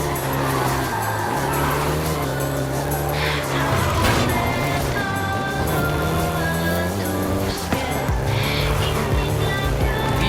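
A Volkswagen Golf GTI racing in Forza Horizon 5 in Mexico, its engine revving loud and close with gear changes and rising pitch, plus brief tire squeal, continuous throughout.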